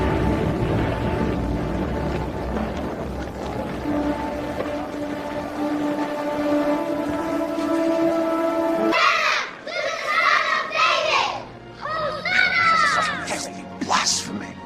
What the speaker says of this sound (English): Do you hear what these children are shouting?